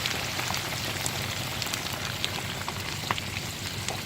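Pork rinds frying in hot oil in a large corn cooker kettle, held down under a round grill grate, giving a dense, steady crackling sizzle with scattered pops, close and continuous with no voices.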